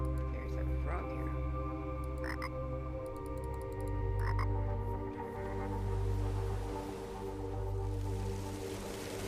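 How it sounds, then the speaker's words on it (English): In the video game Tower of Time, a frog gives a few scattered croaks over a constant humming ambient background, moderately loud and with no speech. "There's a frog here."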